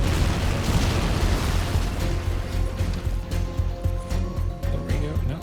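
Continuous rumbling artillery barrage in the WWII strategy game Assault Squad 2, a dense roll of overlapping booms and explosions with no clear gaps, loud and sustained throughout.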